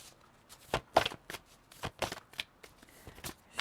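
Tarot cards being shuffled and drawn, a series of crisp close riffling and flicking bursts at an uneven rhythm, quiet and alone without talk.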